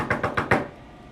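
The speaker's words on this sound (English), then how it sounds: "There was a knock on the door." Four quick, evenly spaced knocks on a door, close and fairly soft, followed by quiet.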